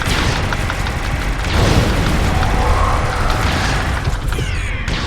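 A freeze flash bomb explodes in Star Trek Online inside a dark cave, a loud, dense, sustained boom and rumble with crashing game effects filling the whole stretch.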